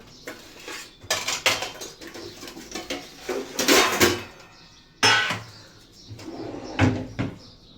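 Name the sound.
cutting melon and pomegranate with kitchen utensils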